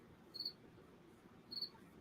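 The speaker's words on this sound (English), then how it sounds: "where are we hearing crickets from?" Crickets chirping in two short, faint bursts about a second apart over quiet background hiss.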